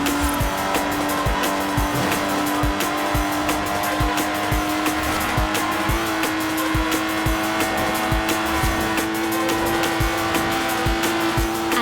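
A Lotus Exige with no power steering driven in Forza Horizon 4, engine note holding a steady high drone with rhythmic clicking pulses and tire noise, loud and continuous with no talk.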